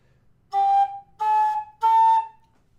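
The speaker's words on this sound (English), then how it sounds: "So the G sharp played is" A tin whistle sounds a single G sharp note three times, each held about half a second with short silent gaps between, clear and close with no talk.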